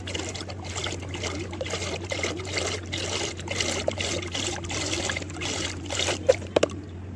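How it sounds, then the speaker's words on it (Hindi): Green coolant poured into a container of water for a car radiator, a steady close trickle and dribble of liquid with a low hum underneath and a few sharp knocks near the end. "उसके बाद में ये कूलेंट डाल करेंगे"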